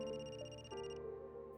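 A telephone rings inside the video game Another Code ReCollection, a steady electronic ring tone with a bright repeating warble that sounds continuously over quiet background music.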